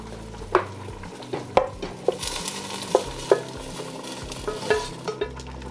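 Meat cooked in butter tossed into a pot for Japanese golden curry, giving a steady sizzle and frying hiss with scattered sharp clinks and stirring knocks of a utensil against the pot, close and fairly loud, no talking.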